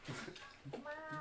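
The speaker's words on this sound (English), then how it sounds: "It's a real cat this time." A real cat gives a short meow and then a second longer one, faint, alongside quiet voices nearby.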